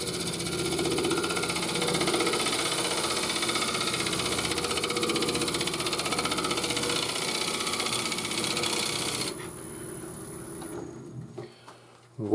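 A wood lathe hums steadily as a chisel edge is brought up under the spinning workpiece, giving a constant close mechanical whir that drops and cuts out near the end.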